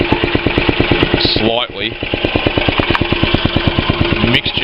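Honda G65 6.8HP engine idling on a Mobilco slasher with a low idle speed, a loud close rapid rhythmic chugging that runs throughout, with someone speaking briefly over it.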